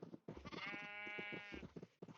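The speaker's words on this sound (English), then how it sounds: "There we go, got some sheep in the pen." Several sheep bleat in a pen in Minecraft, overlapping wavering calls close by, one long sustained bleat in the middle flanked by shorter ones, with no talking.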